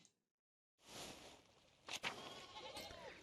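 Sheep bleat in the medieval village of the video game Pentiment, a couple of short calls rising over a steady ambient game backdrop after a brief silence, with faint footsteps nearby.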